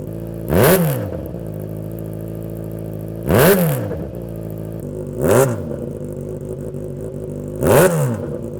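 A Yamaha XJ6 motorcycle idles with its stock exhaust before a Black Widow side-mount swap, blipped four times into loud rising revs that fall back to a steady, close, throaty idle between each blip.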